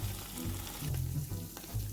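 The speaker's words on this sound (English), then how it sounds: "As you guys can see, the meat is browning" Beef stew meat browning in a hot pan, with a steady close sizzle and low rumbling frying noise that swells and dips, no voices.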